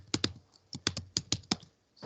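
Keys tapped on a computer keyboard, a quick burst of crisp clicks in small irregular clusters, close and clear, then a short pause before a final few strokes.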